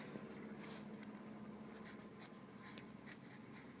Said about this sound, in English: We first begin by writing down the topic.